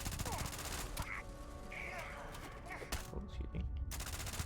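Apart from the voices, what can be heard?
rifle gunfire with 100 round mag in video game Starfield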